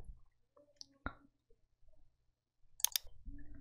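A computer mouse gives a few sharp, sparse clicks in a quiet room, with a faint soft rustle between them.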